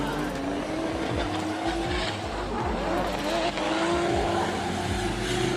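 Drift car at D1GP Malaysia whipping through a 360 spin with loud, continuous tire squeal over a screaming engine, close and sustained, with commentary voices faintly underneath.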